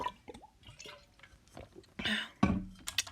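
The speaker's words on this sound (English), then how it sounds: "Just like me drinking water right now." A person drinking water close to the mic, with wet sips, gulps and small liquid drips in an irregular rhythm, ending in a louder swallow and splash, with no talk.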